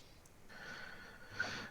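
Heavy breath rushes close into a microphone, one long exhale followed by another louder puff, with no talking.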